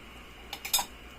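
A metal pot lid is set back onto a pot of simmering sinigang, making three quick light metallic clinks in close succession over a quiet background hum.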